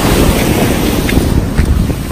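Atlantic surf breaking onto a sandy beach, a loud, close, continuous wash of crashing water with heavy wind rumble buffeting the microphone throughout.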